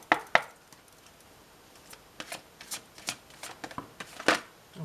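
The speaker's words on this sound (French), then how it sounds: "un tirage de cartes pour vous" Tarot cards shuffled by hand for a birthday reading, heard as a series of crisp riffling and slapping bursts, some sharp and close, spaced irregularly over a quiet background with no talking.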